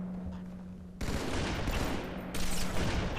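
Sniper rifle and beam rifle fire in Halo 2 on the Legendary Regret level: bursts of gunfire and crackling shots within a steady wash of battle noise, loudening sharply partway through, with no voices.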